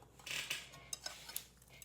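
Noodle salad with salmon and peanut sweet sauce is mixed with utensils in a bowl, a soft swish followed by a few light clinks and taps.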